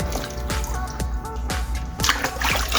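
Pantry items washed one by one in water, giving a steady run of close drips and small sloshes, faint and unhurried, with no voices.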